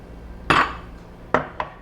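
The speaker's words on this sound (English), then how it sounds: "So what I'm going to do now is give this a really quick stir." A metal utensil gives a squid dish a quick stir in a pan, with three sharp clinks against the pan: one loud scrape-clink, then two shorter knocks close together, all near and clear.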